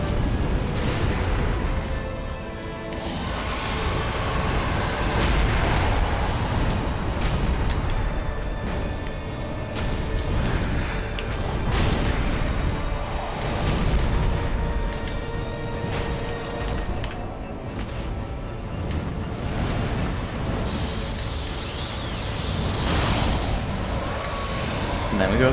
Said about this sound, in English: That's fire breath down, so we need to get away from that.